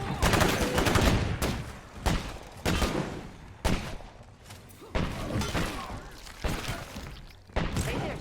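Loud bursts of gunfire in State of Decay 2, including sniper rifle and .50 cal shots, come as repeated heavy reports and rattling volleys with short gaps between them.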